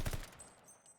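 Pistol fire in a competitive first-person shooter match crackles in quick rapid bursts at the start, then fades into quieter game ambience with faint high tones.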